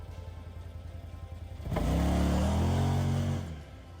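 A car or truck pulls away with a firearm and optic left on its back, engine rising into a loud rev for about two seconds before easing off, close by.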